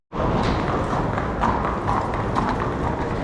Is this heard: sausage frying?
no